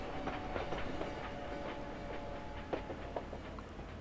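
Train station ambience at a Paris depot in the First World War game Valiant Hearts: a steady low rumble of railway cars with scattered clanking and clicking, moderately loud and continuous, no talking.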